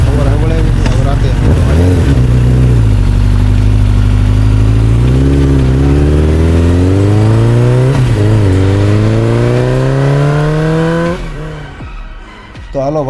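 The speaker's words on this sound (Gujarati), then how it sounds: "રજા પડી એટલે આપણી પેલા ગાડીનું તમે સાઉન્ડ સાંભળો" A car engine revs hard at night, its pitch climbing in long steady sweeps, easing, then climbing again, loud and close before cutting off near the end.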